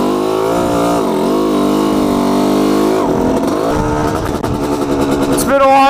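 A motorcycle engine revs up and down while being ridden, its pitch sweeping and climbing through gear changes, loud and close, with someone talking over it at times.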